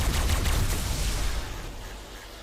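Primitive rifles in the game Ark fire a rapid, loud volley of overlapping shots at a stone structure, the burst dense at first and thinning toward the end.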